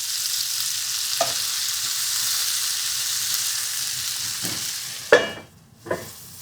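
King oyster mushrooms sizzle steadily in a hot pan, a continuous close frying hiss broken near the end by a couple of sharp clatters as they are flipped; no talking.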